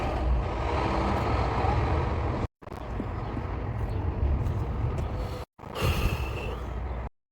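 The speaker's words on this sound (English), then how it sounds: "There's a lot of trucks." Trucks roll past in a continuous heavy rumbling roar, with two abrupt silent breaks and a faint brake-like hiss near the end.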